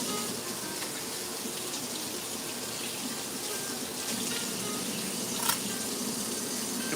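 A kitchen tap runs steadily while a knife is rinsed under it, giving a continuous close rush of water with a faint clink near the end.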